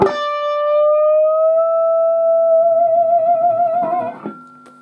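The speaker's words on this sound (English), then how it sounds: "we end this solo with a tone bend from a D note on the B string" An electric guitar with effects closes a solo on a sustained tone bend from D on the B string, a single long, clear singing note with slight vibrato, then fading out.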